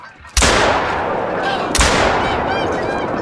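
Two loud, sharp Caversham 12 gauge shotgun blasts in a hunting video game, about 1.4 seconds apart, each followed by a long rolling echo.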